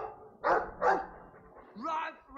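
A Mabari war dog in Dragon Age 2 gives a few short, close barks and yips, followed by a softer whining call.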